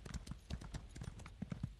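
A horse ridden in The Elder Scrolls Online clip-clops along at a steady, rhythmic trot, its hoofbeats fairly quiet and even with no voices over them.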